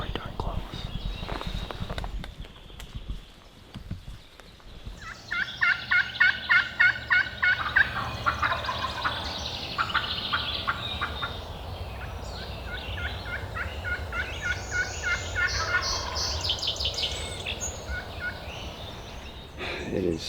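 Two wild turkeys gobble in the woods at dawn in repeated bursts, one fairly close and one farther off, while hunters whisper quietly in between and under the calls.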